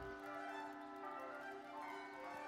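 A big clock in a video game chimes with a sustained, ringing bell tone, a steady resonant hum that holds softly in the background throughout without any talking.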